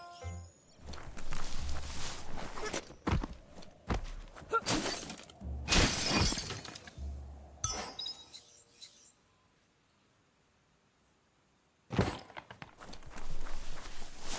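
Loud crashing and splintering bursts from a box being smashed in the video game Biomutant, several impacts in quick succession, then near silence before another crash near the end.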